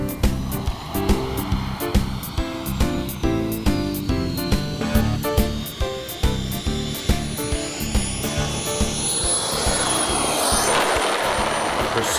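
An RC model jet comes in to land at Temora, Australia, in 2003, its whining turbine roaring steadily over a rhythmic pulsing, then swelling into a broad rush near the end.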